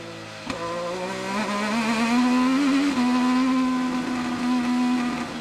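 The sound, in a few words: IndyCar race car engine lifting off throttle into turn 7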